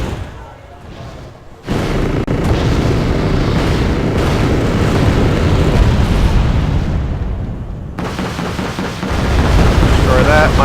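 Artillery fires in a strategy video game, a sustained heavy rumble of booms and blasts that swells after a quieter start, dips briefly, then surges back loud, with a voice talking over parts of it.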